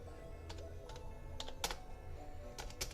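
Clicky keystrokes on a brand-new RGB computer keyboard, tapped in short irregular bursts, close and fairly quiet, with no talking.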